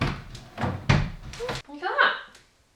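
Doors on a newly built storage cabinet are opened and shut, giving a few close wooden thuds and knocks in quick succession, followed by a brief scraping, sliding movement before it goes quiet.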